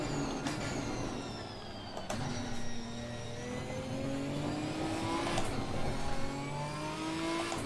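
A GT4 race car in Assetto Corsa Competizione revs its engine toward just over 7,000 rpm through repeated gear changes, a steady loud in-car drone that rises in pitch between short shift breaks, with no talking.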